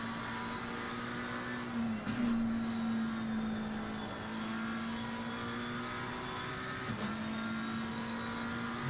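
A McLaren race car engine screams through fast sweeping corners in the sim racing game Assetto Corsa Competizione, holding a steady high-pitched tone with two quick dips where gears shift, loud and close with no talk.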